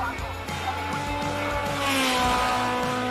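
Lola race car at the Simola hill climb howls past close by, its engine note climbing through rising harmonics with rhythmic gear changes and a brief tyre squeal, loud and continuous.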